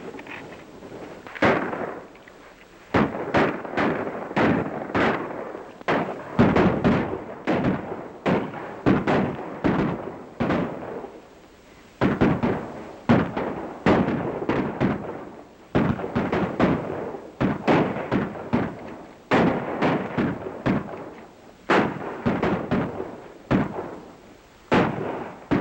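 Rapid gunfire in a shootout from the 1935 western Hop-a-Long Cassidy, dense bursts of sharp shots and echoing cracks in irregular volleys, loud and continuous across the scene.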